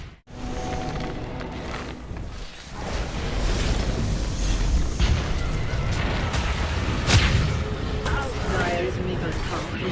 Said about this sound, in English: Dire's middle tower is under attack.